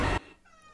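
A black cat gives a short, loud meow that cuts off abruptly, leaving only a faint tail of room sound.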